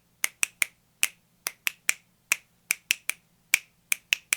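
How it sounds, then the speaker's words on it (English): A single person snaps their fingers in a 2-against-3 cross rhythm, about fifteen crisp, close snaps with uneven spacing in a quiet room, no speech. "just hear the rhythm of my snaps"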